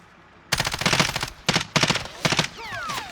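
Automatic gunfire in a multiplayer shooter game cracks out in three or four loud, rapid bursts separated by short pauses, with a faint sweeping whine trailing off at the end.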